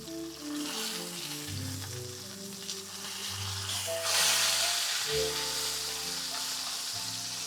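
A steak just flipped in a hot pan gives a steady, close sizzle and hiss that swells in the middle, with mellow 1940s-style jazz playing underneath.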